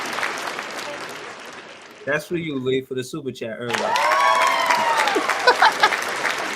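A canned studio sitcom applause effect is played during a sports talk stream; a voice speaks first, then a brief tonal burst, then a swell of clapping and crowd cheer fills the last few seconds.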